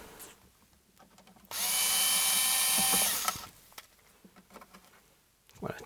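A power screwdriver whirs in one sustained, loud burst of about two seconds while taking screws out of a National Panasonic TC-261G TV cabinet, with quieter clicks and handling before and after.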